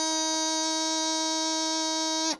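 A single sustained, reedy bagpipe practice chanter note D, bright and steady for about two seconds before cutting off.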